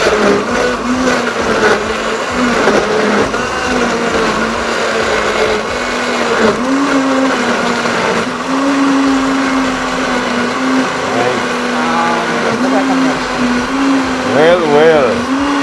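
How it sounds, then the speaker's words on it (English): A blender whirs continuously, blending rum popo with a steady motor drone that shifts pitch slightly as the mix churns, with people talking faintly alongside it. "We're gonna blend a bit."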